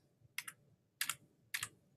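Arrow keys tapped on a computer keyboard, three distinct key presses spaced about half a second apart, each a quick double click, close and quiet in a silent room.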